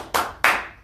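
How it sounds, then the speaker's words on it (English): Two sharp, loud hand claps about a third of a second apart, each ringing briefly in a room, marking a sale in an office at a pest control company. "We do a clap for every sale they made."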